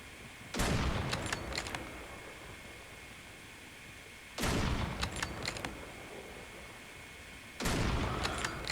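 Three loud single gunshots ring out in a ranked match of a mobile shooter, likely an SP-R 208 sniper rifle, each a sharp crack with a brief rolling tail, spaced a few seconds apart over steady low background noise.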